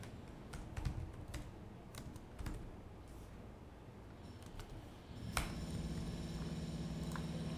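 Fingers tap on a computer keyboard in irregular, quiet keystrokes, close up, over a low steady background hum.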